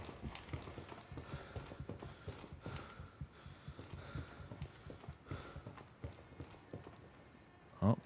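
Footsteps in the military shooter Gray Zone Warfare come as a steady run of close, soft thuds across the whole stretch, with a sharper louder knock right at the end.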